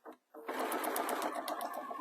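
Sewing machine stitching a neck warmer, a short burst, brief pause, then a fast steady rhythmic run of stitches, close and clear.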